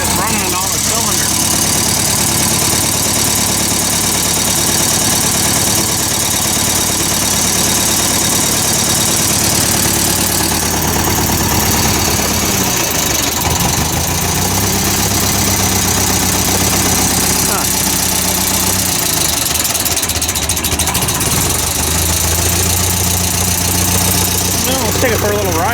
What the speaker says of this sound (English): It doesn't sound like it's running on all the cylinders.